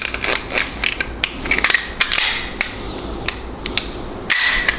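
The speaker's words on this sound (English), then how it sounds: "when you pull the trigger, that hammer hits the pin, back of the pin here" Semi-automatic pistol hammer dry-fired against the firing pin, a series of sharp metallic clicks and snaps at irregular intervals, close up and loud.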